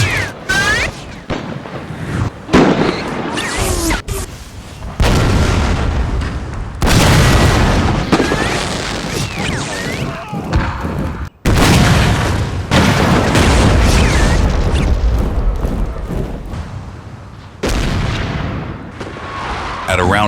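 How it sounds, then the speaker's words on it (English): Artillery fire in a Total War game's 1862 Fredericksburg battle: a relentless, loud barrage of deep booms and cracking blasts, overlapping with rumbling echoes and distant gunfire throughout, with no pause. "This ferocious bombardment stalls the Union advance."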